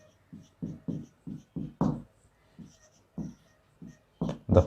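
Handwritten notes put down in short strokes, a series of scratchy bursts in uneven rhythm, close and fairly clear, with gaps between words and no talking.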